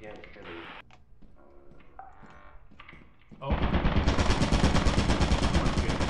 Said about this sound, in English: Someone just shot.